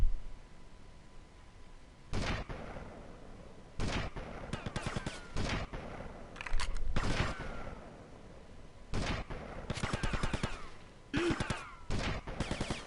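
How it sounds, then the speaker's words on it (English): Gunfire rings out in GTA Vice City in repeated sharp bursts and single shots, spread irregularly over the stretch with quieter gaps between volleys. "Where's the guy shooting at us?"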